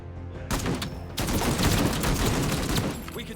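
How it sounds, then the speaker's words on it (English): Sustained bursts of rapid machine gun fire rattle loudly in the MENACE video game as a squad is suppressed, with dense overlapping shots and a brief pause before the firing resumes. "And we still have some machine gun we can use, so let's suppress the squad"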